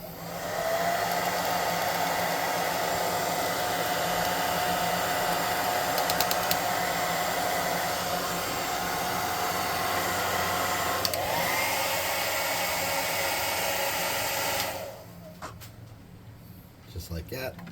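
A hot air tool blows steadily over a Heroclix miniature, a loud constant whooshing hum that cuts off near the end, leaving faint handling clicks.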